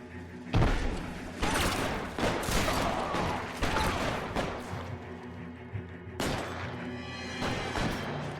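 A video game shootout with bursts of gunfire, several sharp shots and volleys cracking over one another at close range, with rumbling between them and brief voices underneath.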